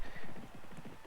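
Horses gallop off at the start of a race in a horse racing video game, a quick rhythmic clip-clop of hooves, fairly faint, with a brief whinny-like tone above.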